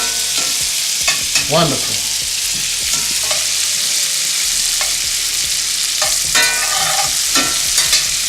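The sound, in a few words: garlic frying in butter, being stirred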